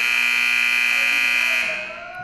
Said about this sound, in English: I'm not sure what that timer was for.